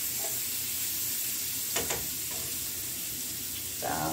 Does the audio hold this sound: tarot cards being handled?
no